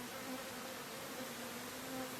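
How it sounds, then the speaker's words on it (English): Honey bees buzz steadily at a hive frame during a honey harvest, a close, continuous drone with a few wingbeat tones weaving in and out. "Oh, there's a bee in a hole right there."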